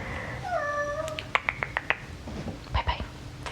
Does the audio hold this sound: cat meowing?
yes